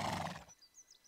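A horse in The Sims video game gives one short, loud whinny that cuts off after half a second, followed by faint high chirps.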